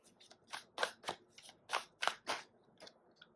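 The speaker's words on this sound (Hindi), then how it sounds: "एक और कार्ड निकालेंगे" Tarot cards shuffle and a single card is drawn from the deck: a run of soft, crisp paper flicks and snaps, close and quiet, in an irregular rhythm of about a dozen quick strokes.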